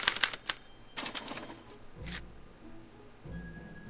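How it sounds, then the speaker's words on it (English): Special typewriter printing out a punch card, giving quiet rapid clacks and taps in short bursts, followed by low thumps and a faint hum. "they're relayed to this special typewriter, which prints out a punch card that represents the subject's mind map"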